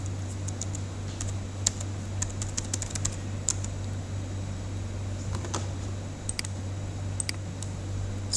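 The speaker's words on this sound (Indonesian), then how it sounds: "Nah, kita ketikkan di sini di awal dari sel A1 ini" Fingers type on a computer keyboard while entering text into an Excel spreadsheet, with quick uneven clusters of light key clicks and pauses over a low steady fan hum, no voices.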